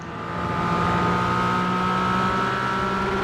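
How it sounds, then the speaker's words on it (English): A McLaren race car engine runs at high, steady revs with its fuel mixture turned up, a loud, sustained drone that swells in over the first half second and then holds. "Trying to get every little bit of power he can out of the McLaren."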